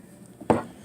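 A single sharp chop from a vegetable cleaver lands on a cutting board, one brief thud after a quiet moment.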